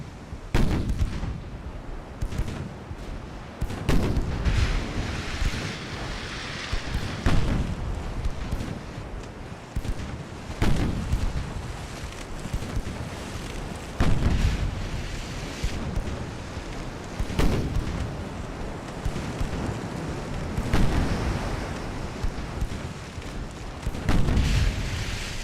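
Naval gunfire and shell impacts in the Ultimate Admiral: Dreadnoughts warship battle against a modern heavy cruiser: repeated heavy booms and blasts at irregular intervals, with rumbling decay between them, loud and continuous throughout; no talking.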